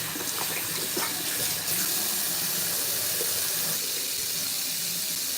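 Water runs steadily from a tap to dampen hair, a close, continuous splashing hiss that shifts slightly in tone as the flow changes, with no talking.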